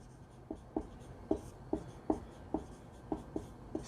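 A maths equation written by hand, a run of short, crisp pen or chalk strokes tapping at a quick, uneven rhythm against a faint hum.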